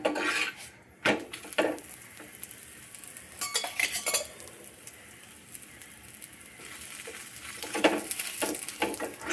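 A chapati cooks on an iron tawa while oil is spread over it, with scraping, tapping spatula strokes and a faint sizzle in irregular bursts, close by.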